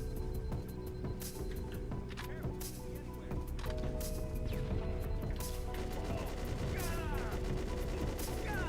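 Rapid video game shotgun blasts and crashing impacts in a chaotic fight, loud and dense, layered over game music and effects with a player talking through parts of it.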